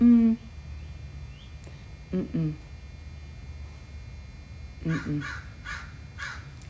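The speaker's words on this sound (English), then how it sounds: "The crow thinks no either." A crow caws outdoors in two short bursts of harsh calls, separated by a few seconds, heard at a moderate distance over a low steady background hum.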